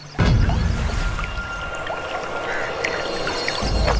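River water in an animated Hindi horror story, a steady low rush and gurgle of flowing water close by, continuous and fairly loud throughout with faint high tonal ambience above it.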